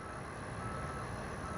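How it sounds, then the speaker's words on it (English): A truck moves slowly around a city park construction site during dirt remediation work, its reversing alarm beeping in a steady, constant pattern against rumbling engine noise, with no voices. "We do have a truck here moving something."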